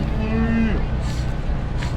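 A steer lowing loudly and close at a junior market steer show in Arizona, one long drawn-out moo with a busy arena murmur behind it.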